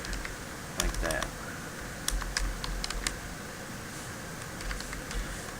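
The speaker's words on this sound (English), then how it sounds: "And go through and type them all in." Rapid typing on a computer keyboard, bursts of close, crisp key clicks with brief pauses, over faint background hiss; someone speaks over it.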